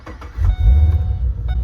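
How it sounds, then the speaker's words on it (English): A Holden Calais VE with a 6-litre V8 idles close by, a deep, steady, loud rumble with slight pulsing and no voices. "So this has got a V8 6-litre engine in it, and I reckon it sounds awesome."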